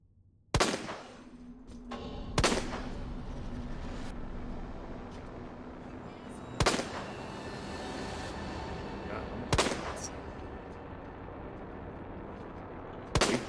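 Sharp handgun shots in Resident Evil 2 Remake, five loud separate cracks spaced several seconds apart, each standing out over a steady droning game ambience.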